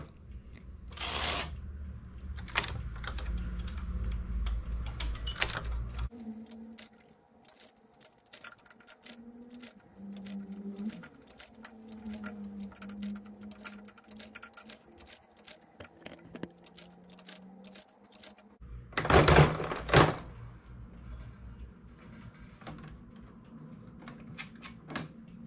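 A knitting machine carriage is pushed back across the needles after stitches are returned to it, giving a long run of dense, fast clicking and rattling with a low hum and a few louder clacks, close and without speech.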